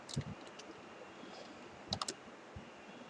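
Python code being typed on a computer keyboard, heard as a few quiet, sparse key clicks in short bursts against a near-silent room.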